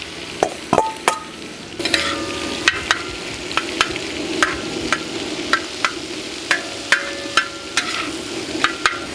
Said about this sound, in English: Let's get our veggies down